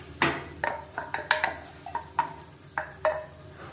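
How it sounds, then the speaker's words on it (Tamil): A spoon scrapes and clinks against a pan while cooked ragi flour and sprouted green gram are stirred with onions, a series of irregular, close metallic taps and scrapes over a faint background hum. "சேர்த்துட்டு நல்லா ஒரு 2 பரட்டி விட்டுக்கணும்."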